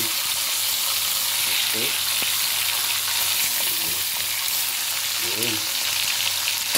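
Chicken browning in a frying pan, a steady loud sizzle and crackle throughout with occasional stirring, while a voice speaks a couple of brief words over it.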